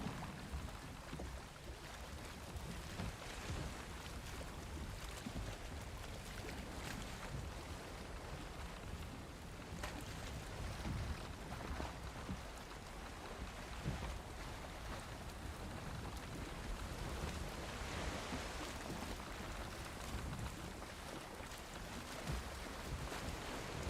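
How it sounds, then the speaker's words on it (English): Strong wind at sea while sailing in Valheim, a steady broadband roar with rain-like hiss, constant and fairly faint throughout with no talking. "This wind is brutal, chat."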